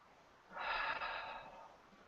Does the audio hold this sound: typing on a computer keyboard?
no